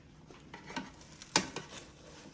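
A grilled cheese sandwich flipped on a Power XL grill: soft sizzling with a couple of light scrapes and one sharp utensil click as it turns, quiet and close.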